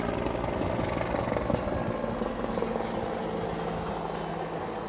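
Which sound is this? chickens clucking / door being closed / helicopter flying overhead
helicopter flying overhead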